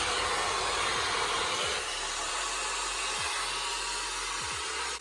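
A Shark hair styler with Auto Wrap curlers blows continuously on 2 heat and 3 speed, a loud, steady rushing airflow with faint bumps and handling noises underneath.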